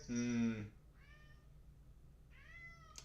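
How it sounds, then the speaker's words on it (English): A pet cat meows indoors: one loud, drawn-out call at the start, then two softer, shorter meows with a gap between them, over a faint steady background hum. "My cat is yelling at me."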